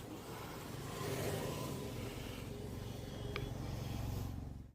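A motorcycle setting off on a ride along a sloping hill road, its engine humming steadily and close throughout, with wind noise over it and a brief higher whine near the end.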